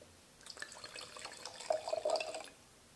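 Rosé wine poured into a glass: a soft, close trickle of liquid that starts gently and swells into a fuller splashing pour before stopping, heard alone.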